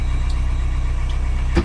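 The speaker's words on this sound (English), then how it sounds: "The engine is running normally" A boat engine runs steadily at a marina dock, a loud, rhythmic low idling chug that pulses evenly throughout, with a brief knock near the end and no voices.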